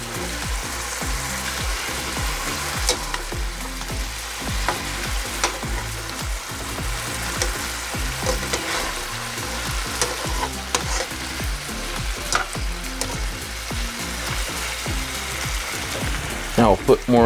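Chicken fajita pieces sizzle loudly in a hot pan, a dense, continuous frying hiss with scattered clicks and scrapes as the pieces are flipped, and a few sharper knocks near the end.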